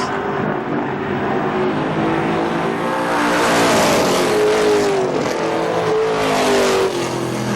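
A race car on the final lap at KilKare Speedway, car number 4, howls close and loud, its engine note climbing and wavering as it accelerates past.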